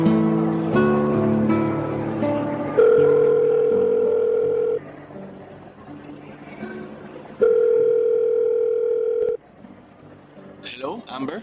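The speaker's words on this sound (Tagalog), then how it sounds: "Inilabas ko ang cellphone ko saka ko tinawagan si Jude para hulihin sila ng harap-harapan" A phone call being placed on a cellphone, with steady ringback tones sounding in long separated bursts against a musical background, before a voice answers at the end.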